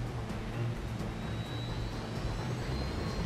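A jet aircraft flies by in Just Cause 2, a steady roaring engine drone with a faint rising whine, heard alone for a few seconds.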